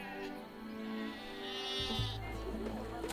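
A sheep bleats in drawn-out, wavering calls over a quiet background, with a faint voice underneath.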